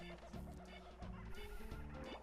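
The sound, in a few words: bird squawking in Space Station Silicon Valley video game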